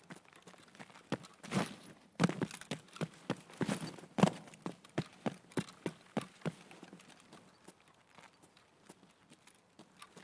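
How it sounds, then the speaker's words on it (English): Footsteps on the ground in the video game Escape from Tarkov, a fast run of crunchy steps and scuffs, louder and denser early on and thinning into quieter, sparser steps toward the end, with no talking. "You do hear footsteps very nicely with these GSS users"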